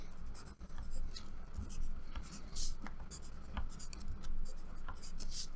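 Pen writing on paper while folding a paper cootie catcher craft, close scratchy strokes in short bursts with pauses, a voice talking quietly in between.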